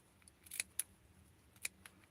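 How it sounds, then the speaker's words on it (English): Scissors make a few quick, faint snips through doll-sized fabric near the thread, crisp isolated clicks spaced irregularly over a quiet background. "So I'm just going to cut it closer to the thread"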